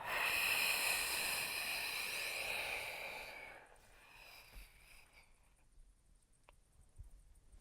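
One long, breathy exhale during a gentle vinyasa yoga session, loud and close at first, then fading into quiet room tone with a couple of faint soft knocks.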